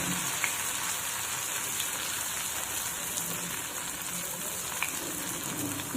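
Ghevar batter frying in a pan over a full gas flame, a steady bright sizzling crackle with small popping bursts, close and continuous with no talk.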